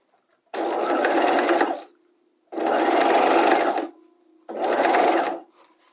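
A sewing machine stitches the seams of a structured bodice's outer shell in fashion fabric, running in three steady bursts of about a second each, separated by short pauses, close and loud.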